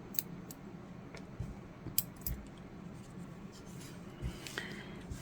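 Scissors cut crochet yarn close up, with quiet snipping and small clicks spread over a few seconds against a soft background.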